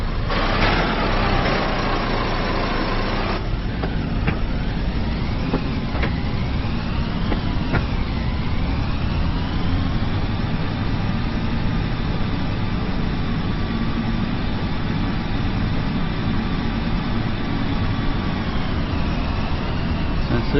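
A small tractor engine runs steadily up close while a folding implement is raised, with a rough low drone, a few rising and falling hydraulic whines, and brief clanks early on.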